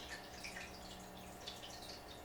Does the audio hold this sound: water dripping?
yes